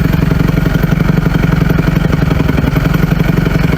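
A Kawasaki KX250F fuel-injected dirt bike engine runs close and loud while being ridden in freezing cold, a steady rapid buzzing drone with a rattly pulse.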